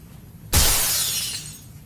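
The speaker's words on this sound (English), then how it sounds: "We done broke the glass." A single sharp glass shatter bursts in suddenly, then a bright scatter of falling shards trails off over about a second, loud and close with no voices.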